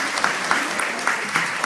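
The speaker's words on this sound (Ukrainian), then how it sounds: "Поэтому прошу ваших аплодисментов" An audience at an open lecture in Grodno claps together, a dense, loud, continuous patter of many hands filling the room.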